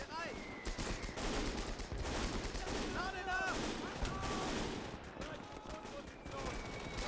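Anti-tank guns, 50mm Pak 38s and a Pak 40, fire in a Gates of Hell battle amid a constant dense crackle of distant gunfire and impacts, with scattered louder shots throughout.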